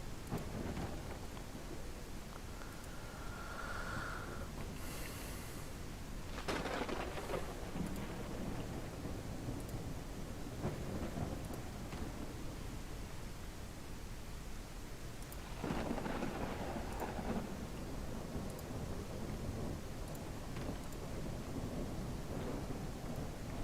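In a video game, a thunderstorm pours steady rain while deep thunder rumbles roll in twice, swelling and fading over the constant downpour.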